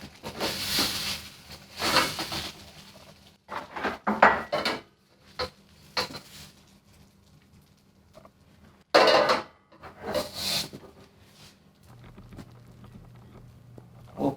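Pork fried rice being plated, with dishes and utensils clinking and scraping in scattered bursts, some sharp close clatters separated by quiet gaps, no talking.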